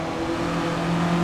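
A Russell Alexis Mk.14 Formula Ford racing car in a sim racing game, its engine holding a steady, loud, buzzing drone at near-constant revs with no talk over it.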